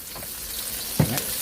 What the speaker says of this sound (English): Saute it. Add a little bit more oil.